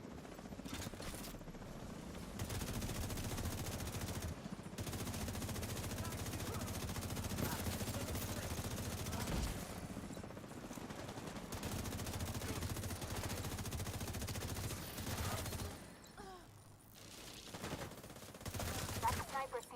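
Rapid automatic gunfire and dense battle noise in a video game, loud continuous bursts over a rumbling mechanical drone, easing off near the end with a few final shots.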